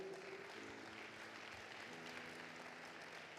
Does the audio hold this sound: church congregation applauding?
yes